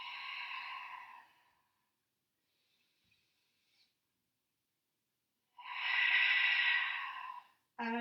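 Two long, breathy exhalations during a Pilates exercise, one near the start and one later, each steady and close, separated by near silence, with a brief voice at the very end.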